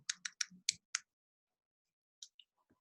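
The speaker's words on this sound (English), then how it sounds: "Yes, I'm clicking on the screenshot." Computer mouse clicks on a screenshot: five quick, crisp clicks in a rapid burst, then a pause and two softer clicks, close and quiet with no talking.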